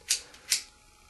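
A plain Bic lighter flicked near the ear, two quick sharp clicks about half a second apart, close and fairly faint, with no talk.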